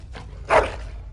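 A dog in the fantasy role-playing game Dragon Age: Origins gives a single short bark, close and moderately loud, over a low background hum.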